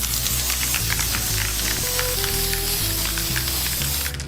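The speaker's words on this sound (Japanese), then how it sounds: "じゃあ反対側にもアクリルスプレー塗っていきましょう" Acrylic spray hissing steadily from an aerosol can onto a mounted fish specimen, a loud continuous spray with a few faint clicks and thumps.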